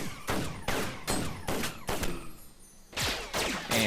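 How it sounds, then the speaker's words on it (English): Raylan's gun impacts from the game Awesomenauts, a rapid series of sharp, punchy hits in a steady rhythm, with a brief pause before another quick burst resumes. "Added gun impact sounds for Lone Star and Raylan"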